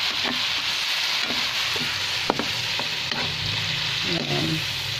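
Fatty meat fries in a pan with soy sauce while it is stirred. The sizzle is loud and constant, with scraping stirring strokes and occasional clinks close up.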